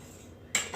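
A fork scrapes and clinks against a skillet while food is pushed around over medium heat, one sharp metallic scrape followed by a softer tap.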